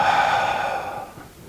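A long, steady exhaled breath during a tai chi practice, a soft airy rush that is close and fairly loud at first and gradually fades over a second and a half.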